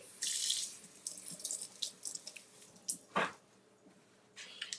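Hamburger buns rinsed under a running kitchen tap, with short bursts of faint splashing water and a few sharp knocks, quiet and intermittent with gaps between.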